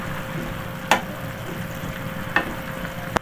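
Carrots and green peas are stirred in a pan of sizzling liquid, a steady soft bubbling hiss broken by three sharp spoon scrapes against the pan.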